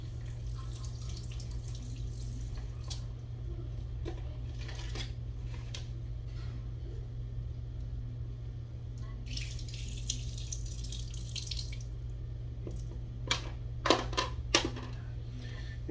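Running faucet water rinsing plastic Game Boy Color shell parts and buttons, a steady close hiss with occasional splashes and drips, broken by brief clicks and knocks of plastic pieces being handled.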